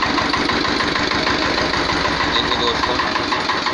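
A 1979 Sartaj antique tractor engine idles steadily, a close, even diesel chug with a rapid knocking pulse that continues without change, while someone speaks briefly over it.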